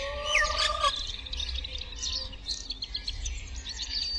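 Forest birds gathering, with bright chirps and tweets that are sharp up front, followed by scattered fainter calls over a soft background.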